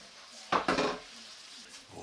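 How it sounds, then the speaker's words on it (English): Roasting vegetables get flipped in a pan, giving a couple of close metallic scrapes and clinks of utensil against the pan, then brief quiet. "I'm just going to flip the veggies over"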